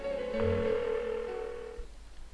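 An unanswered phone in the video game Persona 4 rings once with a steady electronic tone that fades out after about a second and a half, loud and close, with no voices over it.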